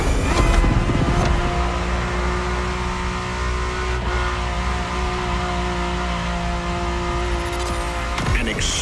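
A racing-derived sports car engine with a carbon fiber monocoque chassis drones steadily from inside the cabin, a loud sustained tone holding pitch for several seconds before a brief shift near the end.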